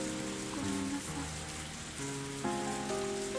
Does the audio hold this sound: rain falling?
yes